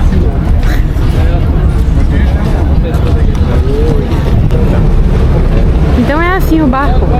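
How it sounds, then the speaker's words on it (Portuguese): A public ferry crossing the Bosphorus in Istanbul, loud steady engine rumble and wind buffeting the microphone with water wash, a few faint bird-like chirps near the end. "Então é assim o barco. É um ferry, né? É um ferry."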